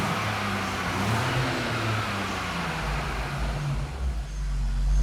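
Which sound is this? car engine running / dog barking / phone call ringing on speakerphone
car engine running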